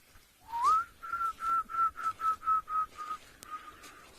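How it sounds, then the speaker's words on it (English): A short run of soft, evenly spaced whistled notes carries a descending cooing rhythm, roughly a dozen pulses fading toward the end. The sound is an emerald-spotted wood dove calling in the African bush, moderately distant and heard alone. "There's an emerald spotted wood dove, or shivambalana"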